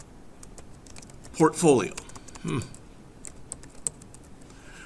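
Computer keyboard keys click in a scattered series of sharp, light taps up close, with a voice speaking briefly partway through.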